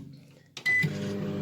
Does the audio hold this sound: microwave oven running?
yes